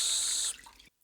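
Curing liquid poured over a corned beef brisket in a big pan, a steady splashing stream for about half a second that trails off into a few scattered drips before stopping.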